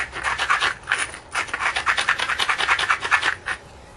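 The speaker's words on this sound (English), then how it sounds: "hammerstones need a good grind." The platform of a quartzite hammerstone is ground with a rapid series of dry, rasping strokes, steady and close, repeating rhythmically with brief pauses and no voices.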